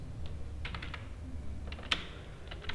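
Java code being typed on a computer keyboard: scattered clusters of crisp key clicks with a few pauses and one sharper keystroke, close and fairly quiet over a steady low room hum, no talking.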